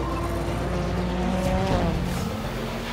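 A Ford Transit Supervan pulls away hard at the Nürburgring, its racing engine roaring steadily with rising revs and a brief tyre chirp, loud and close throughout.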